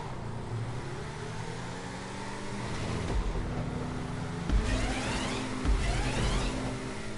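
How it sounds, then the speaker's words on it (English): Car in GTA 5 driving over a stunt jump on a custom race track, a steady engine roar with rushing wind, with thumps on landing and a couple of louder surges near the end, no talking. "Now let's go and see where this car goes over this jump."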